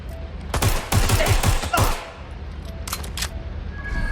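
Rapid bursts of gunfire in Watch Dogs Legion, a tight cluster of close, loud shots followed by a fainter scattered volley and a brief lingering tail.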